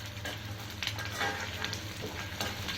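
Garlic cloves frying in a pan for a garlic chilli podi, giving a steady crackling sizzle with occasional pops and stirring scrapes, close and continuous with no talking.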